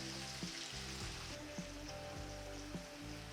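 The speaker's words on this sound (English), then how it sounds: "We go in with the white wine." Tiger prawns sizzling in a pan after a splash of white wine goes in, a steady close hiss and crackle with a low hum underneath.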